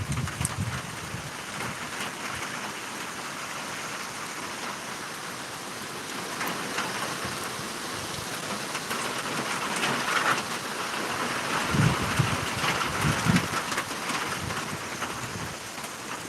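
Strong gusty wind from Tropical Storm Elsa tearing through large pecan trees in North Florida, a continuous loud rushing roar with rain hiss that swells into stronger gusts toward the end.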